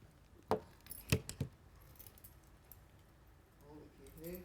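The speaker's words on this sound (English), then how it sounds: "To be able to take these keys and to be able to undo this trigger clip." A bunch of keys handled to undo a trigger clip, producing a few sharp metallic jingles close by, then a quieter rustle later on.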